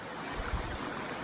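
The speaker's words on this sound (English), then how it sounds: "It's the same creek I think that was flowing by us." Creek water rushing steadily at a trail water crossing, a continuous broadband wash with no voices.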